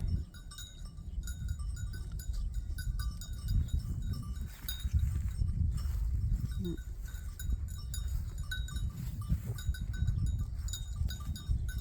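Flock of sheep on a cold day, bleating here and there over a steady low shuffling rumble of the animals moving, with a faint bell-like clink now and then.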